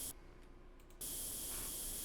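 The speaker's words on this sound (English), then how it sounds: "let's start spraying the side of the tank" A spray gun hisses steadily while paint is sprayed onto the side of a tank in Tank Mechanic Simulator, a continuous broadband hiss that briefly softens then resumes louder and unbroken.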